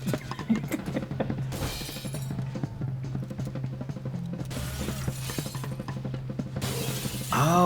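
Glass shatters loudly in a gorilla's zoo breakout in the game Ape Out, two or three bright crashing bursts over a steady mechanical hum and busy game noise, the last burst louder near the end.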